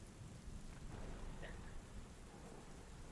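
Steady rain hisses in a dense, even wash while low thunder rumbles faintly in the background, the whole storm ambience quiet and distant throughout.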